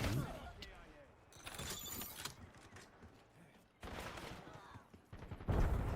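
Bursts of automatic gunfire crackle in a Call of Duty Black Ops 7 multiplayer match, several volleys separated by quieter stretches, mixed with game effects.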